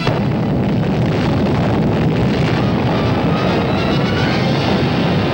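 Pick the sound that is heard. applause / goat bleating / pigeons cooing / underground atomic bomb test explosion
underground atomic bomb test explosion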